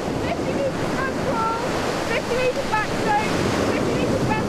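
Steady wash of waves and surf on Aberystwyth Beach, a continuous broadband roar with wind buffeting the microphone and faint bird-like calls above it.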